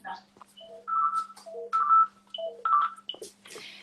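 A landline telephone is dialed, giving a quick series of clear, distinct keypad tones separated by brief gaps and small clicks, heard close and alone.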